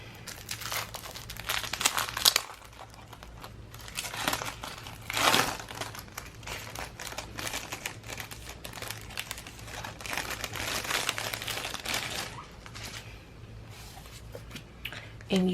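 Packaging of a Sissysprintsco August planner sticker subscription kit being opened, with repeated close crinkling and crumpling of plastic and paper in irregular bursts, with some talk alongside.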